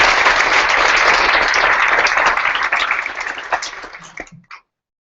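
An audience applauds a speaker named Ella onto the stage at a live-streamed Australian Human Rights Commission event, a dense burst of clapping that thins and dies away after about four seconds.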